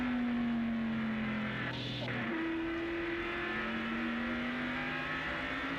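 Ken Schrader's NASCAR Winston Cup race car, 1987, heard from the in-car camera on a 5/8-mile short track: a loud, sustained engine drone that dips briefly as he lifts, then climbs back to a steady high pitch.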